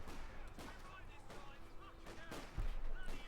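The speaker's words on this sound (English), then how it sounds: "A few shots" Gunfire in Company of Heroes 2, a Wehrmacht versus British match with Grenadiers trading shots against Lee Enfield rifle sections: scattered sharp reports and bursts running under steady commentary, with a heavier thump near the end.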